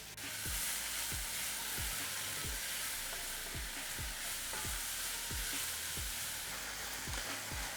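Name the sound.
leeks and carrots sizzling in sausage fat in pan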